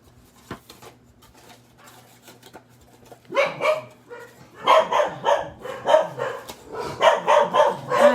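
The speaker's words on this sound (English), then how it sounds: "they bark, but I know it's sort of uncomfortable for you guys to have to hear it" Several dogs bark in an indoor room during a paper-craft session, a quiet stretch giving way to a loud, repeated run of overlapping barks and yips close by.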